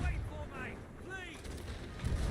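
Ship cannons firing in the pirate video game Sea of Thieves: a deep, booming low-end blast with a rumbling tail, followed by another heavy boom near the end, with faint in-game sound effects in between.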